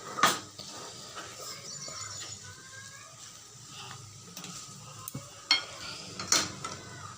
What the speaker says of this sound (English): We will mix it properly, and I have mixed the noodles properly.